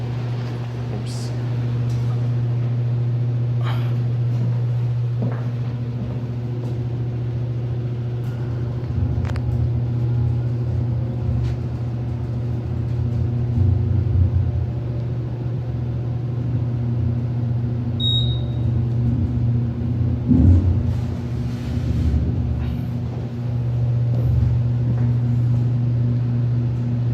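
A CNIM hydraulic elevator motor at Toronto Pearson Airport Terminal 3 hums with a steady low drone and a constant whine, with faint machinery rumble and occasional clicks throughout.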